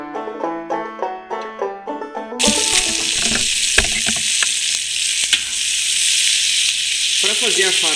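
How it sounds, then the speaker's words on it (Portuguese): Bacon sizzling and crackling loudly and steadily in a frying pan as it crisps for farofa, a stuffing for roast rabbit, following a brief stretch of music at the start. "você vai fritar o bacon, para ele ficar bem fritinho"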